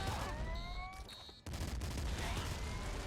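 Rapid gunfire from the video game Nuclear Throne crackles in dense, steady bursts over short electronic tones, fairly faint overall, with a brief drop before shooting resumes.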